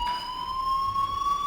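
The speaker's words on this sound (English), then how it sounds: "Hey, do you hear that fire alarm?" A school fire alarm in the video game Life is Strange sounds as a steady, piercing electronic tone with bright layered overtones, continuous and unbroken throughout, over a low faint room hum, with no speech.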